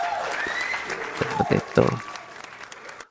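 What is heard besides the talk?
audience applause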